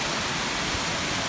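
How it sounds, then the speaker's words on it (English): Amicalola Falls roaring at the top of the cascade, a dense, steady rush of water heard up close with no break. "I don't know if you can hear me over all the noise of the water, but this is the very top of the falls"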